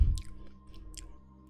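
Close-up chewing of a double cheeseburger with pickles, short wet squishy bites and mouth clicks right at the microphone, loudest at the start and then fading to soft smacking.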